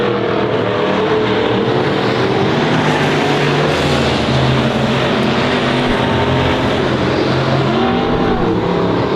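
Stock cars racing at Honor Speedway, a loud continuous roar of several engines rising and falling as the cars lap close by, with no talk over it.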